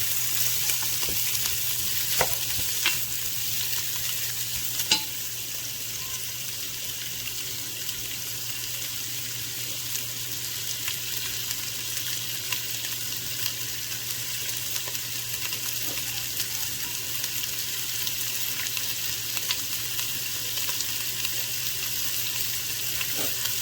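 Andouille sausage and vegetables fry Cajun style in olive oil, giving a steady, even crackling sizzle that runs unbroken throughout at moderate loudness, with occasional tiny pops and no voices.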